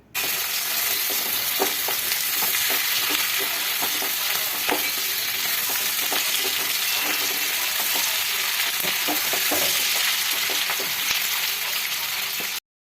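Fried chicken is stirred with sautéed onion and capsicum in a hot pan, a continuous loud sizzle broken by scraping and clinking strokes of the spatula for about twelve seconds.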